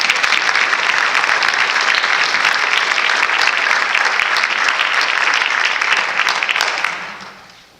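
Sustained audience applause at a high school special recognition award ceremony, steady and full for several seconds before tapering off at the end.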